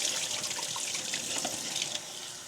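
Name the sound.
rinsing produce under running tap water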